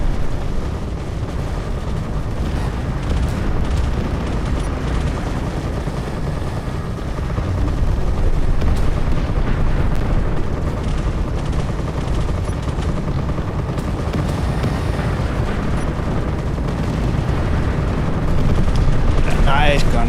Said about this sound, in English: Nice gun sounds in this game.